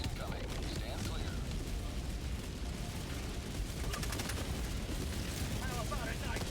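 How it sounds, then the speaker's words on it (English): Continuous dense rumble of orbital barrage explosions in a shooter video game, heavy low booms layered with crackling gunfire-like bursts throughout, loud and sustained with no pauses. "Orbital barrage incoming."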